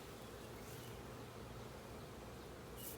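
A swarm of honey bees hums while being swept off a hive frame with a bee brush, an even, continuous buzz that stays close and unbroken without talk.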